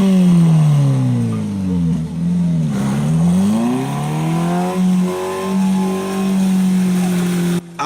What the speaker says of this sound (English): Women as well as men join hands to push a car.